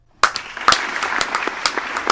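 A few people clap their hands in a quick, uneven burst of sharp claps after a brief silence, close and fairly loud, with no talking.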